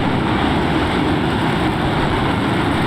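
Steady, loud roar of an F-15EX fighter jet's engines in flight, heard from inside the aircraft, with a continuous broadband drone and no talk.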